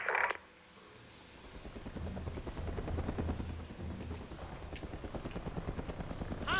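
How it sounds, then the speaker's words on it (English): Enemy helicopter in the video game Mercenaries 2, a steady low rotor thump that swells and holds for several seconds, moderately loud, with brief game effects at the start and end. "Hostile chopper!"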